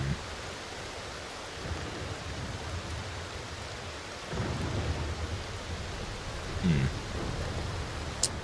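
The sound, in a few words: thunderstorm in Aloft, from a video game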